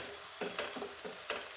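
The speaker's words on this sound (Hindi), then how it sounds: "और अब हम इसे करते हैं फ्राई" Onions frying in a pan for chicken biryani, a constant hiss of sizzling oil broken by several quick stirring bursts, heard up close with no talk.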